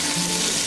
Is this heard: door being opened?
no